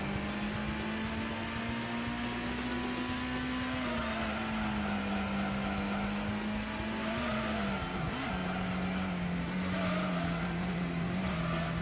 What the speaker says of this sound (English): Nice drift there.